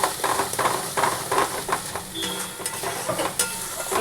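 Coconut paste with black cumin and chili gets mixed into bottle gourd peel in a pan, a continuous scraping stir with light sizzling and quick spoon strokes.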